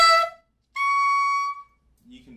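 A short reedy note is followed by a high, pure, sustained alto saxophone altissimo tone, overblown from C sharp, held for nearly a second, then a brief low sound.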